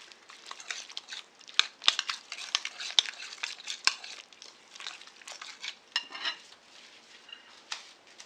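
A spoon scrapes and clicks in a pan while mixing the sauce base for potatoes, a steady run of soft scratches and taps near at hand, with no talking.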